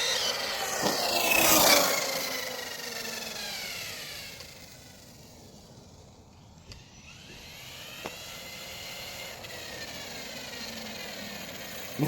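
A HoBao Hyper TT RC car rips past at speed, a rising high whine and rasping tire roll on the road that swells loud near the start, fades into a steady distant hum, then builds again.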